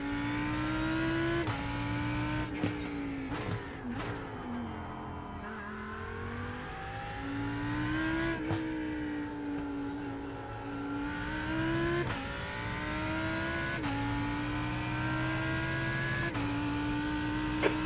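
Lamborghini GT3 race car engine in a racing sim at the Nürburgring on a cold track, droning steadily with repeated rev rises and dips through gear changes, loud and continuous with no talk.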